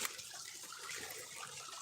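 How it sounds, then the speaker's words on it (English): A river flows steadily past a woodland walking path, a continuous broadband wash of moving water with no breaks, moderately close and alone. "Here's the water. That's the river."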